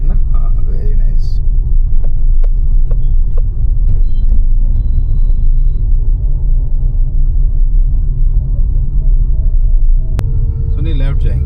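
A car rumbles steadily and loudly from inside the cabin during a driving lesson, its low engine and road noise continuous throughout, with a brief sharper noise near the end.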